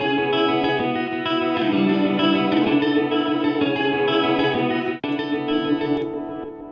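Guitar-like tones pushed through Logic Pro Stompbox effects, with delay, distortion and modulation coloring a sustained, chorused and echoing tone that plays steadily for about five seconds, cuts briefly, then resumes and fades out.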